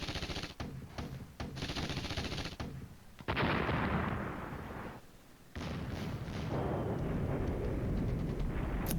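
Artillery and gunfire pounding infantry in the war game Flashpoint Campaigns: Red Storm, sustained rumbling barrages and rapid bursts of shots, broken by brief pauses before the bombardment resumes loudly.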